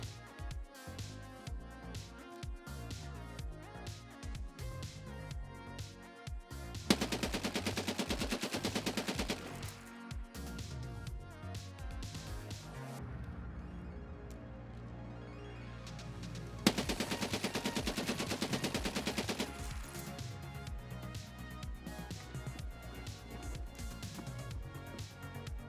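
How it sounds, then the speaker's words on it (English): An M60 machine gun in Escape from Tarkov fires long, loud automatic bursts of rapid shots, broken by a quieter pause midway before more sustained fire. "The M60, however, takes these calculations and beats them into submission."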